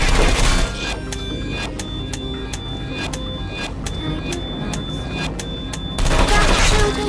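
Turrets in the video game Portal 2 fire rapid bursts of gunshots, sharp regular cracks repeating for several seconds between louder mechanical rumbles at start and end.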